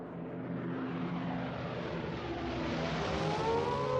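German warplanes drone overhead with a steady propeller-engine hum that slowly swells in loudness, with a faint rising whine near the end and no talk.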